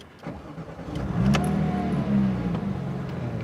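A Porsche 911 GT3 engine starts up close by, a brief cranking churn followed by a swelling idle that flares into a short rev and settles to a steady rumble.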